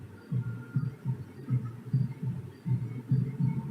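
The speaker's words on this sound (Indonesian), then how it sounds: "Itu kayak suara detak jantung, denyut jantung di dada." Rhythmic low throbbing pulses in pairs like a heartbeat, repeating steadily about every half second, close and fairly loud with a faint hum beneath.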